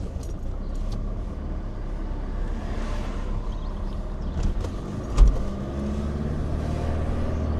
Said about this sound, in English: Get out of the way of the fellow with the trailer.